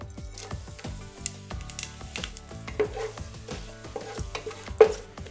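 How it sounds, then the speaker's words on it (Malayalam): Cinnamon, cloves, cardamom, fennel seeds and a bay leaf fry in leftover frying oil for chicken biryani, with quick scraping stirs and a soft sizzle running throughout, close and moderately loud. "ഇതിലേക്ക് ഇനി കുറച്ച് പട്ട, ഗ്രാമ്പു, ഏലക്കായ്, പെരിഞ്ചീരകം, പിന്നെ ഒരു ബേ ലീഫ് ഇട്ട് കൊടുക്കുക."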